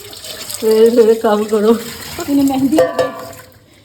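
Tap water runs into a sink while dishes are washed, a steady close splashing stream under a woman's loud, animated voice.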